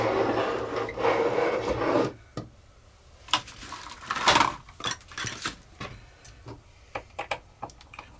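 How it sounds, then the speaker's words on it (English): Tight motor screws are backed out of a damaged DJI Phantom 4 Pro drone with a small screwdriver: a close, gritty rasp for about two seconds, then scattered dry clicks and ticks with no talking. "We can begin by taking the motor screws out."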